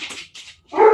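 Dogs in a home give short yips and whimpering barks in close, uneven bursts with brief gaps between them, and no one talks over them.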